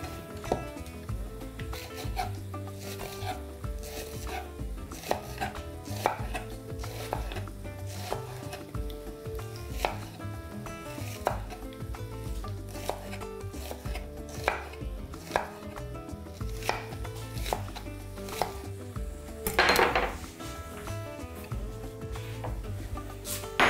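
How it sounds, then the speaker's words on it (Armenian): A knife chops onions into feather-like slices on a board, with a steady run of close, crisp cuts throughout, a few louder knocks near the end. "կտապակենք 3 գլուխ սոխ, որը կկտրատեմ փետրաձև"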